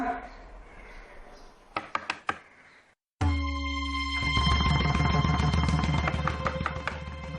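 Several quick raps on a door come in a short burst, followed after a brief silence by loud sustained background music with a voice speaking over it.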